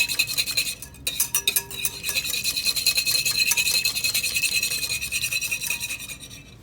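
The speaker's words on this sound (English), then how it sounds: "while we're still whipping the egg yolk and the dry ingredients" Rapid whisking of egg yolk with dry ingredients in a bowl during a garde manger kitchen lab: a steady, close scraping rasp of metal against the bowl, continuous and brisk with a short pause near the start.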